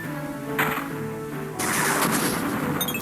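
A Sonic Boom attack in Final Fantasy Tactics Advance, a loud crashing blast that breaks in sharply, then a second heavier burst swells into a sustained roaring rush with a few bright chiming tones near the end.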